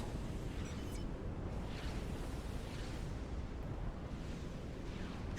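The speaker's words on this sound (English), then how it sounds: "this aircraft carrier, this Atlantis, is getting so many kills with those missiles" Missiles from an Atlantis aircraft carrier in the strategy game Supreme Commander: Forged Alliance Forever, heard as a steady, dense rumble of distant blasts and launches with no voices.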